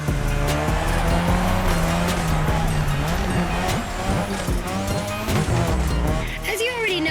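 A car drifts on a drift track in The Crew Motorfest, tires squealing almost continuously over a loud, revving engine that rises and falls as the slide continues.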